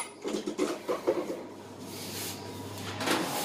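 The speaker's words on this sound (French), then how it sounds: "Donc là on va le mettre au four. Chérie, tu peux m'ouvrir la porte s'il te plaît?" A home kitchen oven door is opened with a run of quick clicks and rattles from the handle and hinge. A soft, sustained creak follows as the door swings down.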